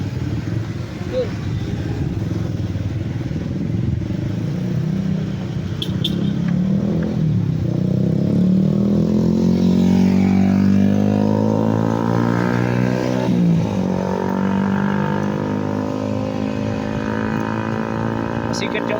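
A motorcycle engine runs steadily and revs up and down, its pitch climbing and dropping in smooth sweeps. The engine stays close and loud throughout, with some background clatter and wind.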